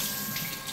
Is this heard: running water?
yes